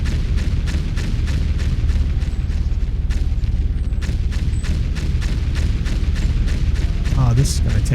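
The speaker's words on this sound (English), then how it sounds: "Now let's do the orbital laser again. Destroy the mountain." An orbital laser blasts a mountain in the video game Foundry, a continuous heavy rumbling barrage of rapid booming impacts that holds steady for several seconds, with a brief rising whoosh near the end.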